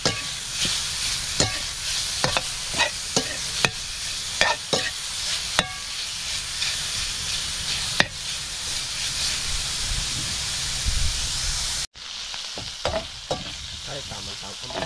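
Pork sizzles and fries steadily in a pan with a little cooking oil for mustard greens with pork, with sharp clicks of a utensil stirring and scraping throughout and a brief cut to quieter sizzling near the end.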